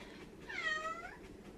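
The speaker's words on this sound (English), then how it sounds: "Hear my cat." Lily, a pet cat, gives a single faint, drawn-out meow lasting under a second against a quiet, slightly hissy room.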